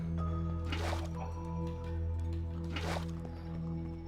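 Water placed block by block in Minecraft, heard as soft squishy liquid pops and drips at a close, steady level, repeating about twice over a constant low in-game background hum.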